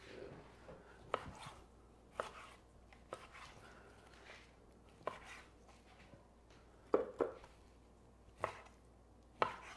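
A kitchen knife cubing salmon for salmon cakes on a cutting board, a series of sharp, irregular chopping taps spaced a second or so apart, fairly close and moderately quiet.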